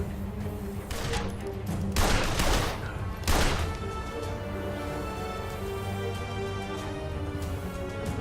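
Bursts of gunfire from the video game Blues & Bullets crackle in loud, dense volleys, with two sharp clusters standing out over a steady droning backdrop.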